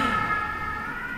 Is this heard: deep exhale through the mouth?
no